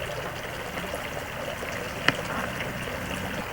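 Water running steadily into a homemade wooden trough beside an old farmhouse, a soft continuous trickle with one brief sharp knock partway through.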